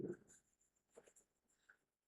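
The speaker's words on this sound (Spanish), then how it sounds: "estos apenas son una pequeña pasadita con el lápiz bien suavecito" A pencil lightly shades paper while tones are drawn on a cube, giving quiet scratchy strokes in a few short bursts with pauses between.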